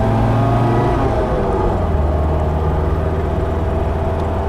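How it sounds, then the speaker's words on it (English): Engine of a 1980 MG B convertible heard from inside while driving and downshifting, a loud steady drone with a shift in pitch partway through, no talking. "Downshifts easily into third, and if I slow down, it will also go easily into second."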